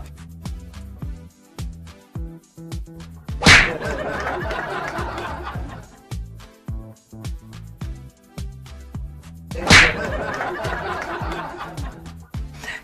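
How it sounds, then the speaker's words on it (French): Two sharp slaps in a replayed clip of Macron being hit, each a crisp crack followed by a burst of crowd noise, several seconds apart over background chatter. "on entend la claque, le bruit de la claque, claque"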